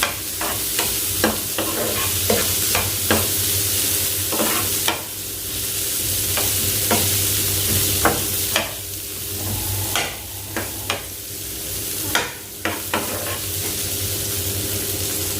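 Salmon frying in a hot pan for a crispy finish, with a steady loud sizzle broken by repeated sharp crackles and spatters throughout.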